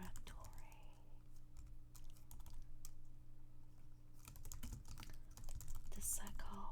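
Soft, quiet keyboard typing in irregular bursts of close key clicks, with faint whispering at moments.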